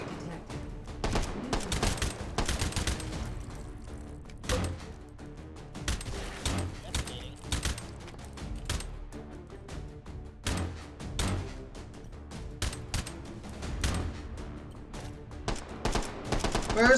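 Repeated gunfire from a gun in the video game H3VR, with bursts of sharp shots spread across the clip, some rapid and clustered, at a steady loud level over quiet game background.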